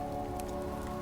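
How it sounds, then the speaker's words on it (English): Steady rain falling, a soft continuous hiss with a faint low hum beneath it, even and unbroken throughout with no voices. "The rain continues."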